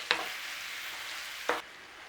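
Minced meat and spices fry in a pan with a steady soft sizzle, broken by two brief scraping stirs of a utensil, close and fairly quiet with no talking.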